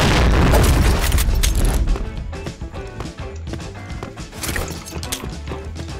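Grenade blasts in the Point Blank shooter game played on an Asus ROG G512LI laptop, a heavy booming explosion at the start followed by repeated thuds, impacts and gunfire-like cracks, loud and continuous.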